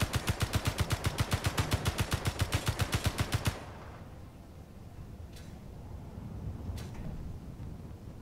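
Rapid automatic gunfire in the space game Space Engineers, a loud, evenly spaced burst of about twenty shots that stops abruptly, followed by a low rumbling ambience with a couple of faint distant clicks.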